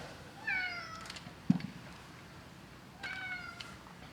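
A cat named Tuco gives two clear, drawn-out meows a few seconds apart, close by and fairly quiet, with a single sharp knock between them.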